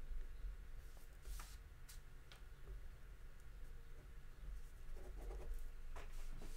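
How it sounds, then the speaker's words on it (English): A pen scratches out notes on paper with faint, scattered ticks and short scribbling strokes over a low, steady room hum. "taking notes for myself"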